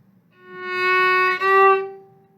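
A single bowed string half note on F sharp swells from soft to loud over about two seconds, holding a steady pitch before cutting off.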